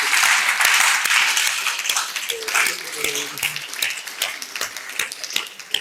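A church congregation applauds during a French-language Sunday sermon, with steady clapping running throughout under a preacher's speaking voice.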